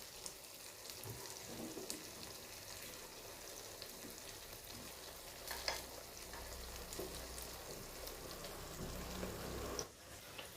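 Malpua batter frying in white oil in the wells of a pitha pan, a steady broadband sizzle running throughout with occasional soft crackles and pops, no talking.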